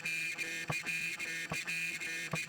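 A Makera Carvera Air desktop CNC runs its auto-leveling routine over plastic stock: a steady high motor whine broken by regular short clicks and pauses as the probe steps across the surface, close and moderately quiet.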